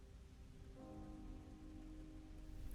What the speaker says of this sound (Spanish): la lluvia había comenzado a caer, convirtiendo automáticamente el ambiente en uno más melancólico